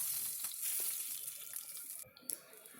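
Cumin, curry leaves and dried red chillies tempering in hot oil, a dense bright sizzling hiss that runs steadily, then briefly cuts out near the end before a couple of sharp spits and crackles.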